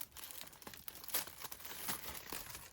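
Wrapping on a red velvet gift basket being ripped apart up close, a run of dry crinkling and tearing bursts with brief pauses, fairly quiet overall.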